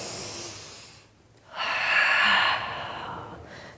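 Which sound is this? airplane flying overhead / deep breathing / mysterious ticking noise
deep breathing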